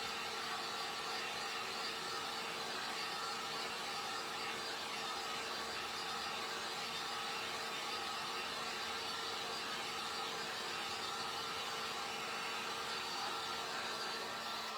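A handheld dryer blows steadily on a freshly painted coat on a wooden snow globe, a constant whirring hum with an airy hiss that stays level throughout, close and unbroken, with no talking.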